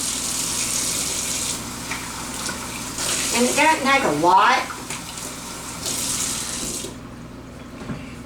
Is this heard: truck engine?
no